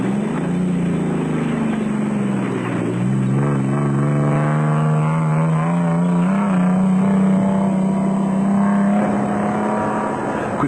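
Nissan Hardbody off-road race trucks at the 2003 Sun City off-road race in South Africa: a loud, continuous engine drone that rises and falls in pitch as the trucks rev, with no speech.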